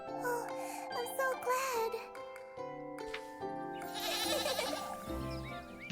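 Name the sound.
goat bleating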